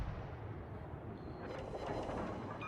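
Naval artillery booms from World of Warships: Legends, with the San Diego firing its guns at sea, a dense rumbling barrage of layered low thuds and crackling blasts that never lets up, with no voices.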